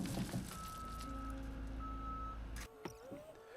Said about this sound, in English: this is the dirt going out of the dump truck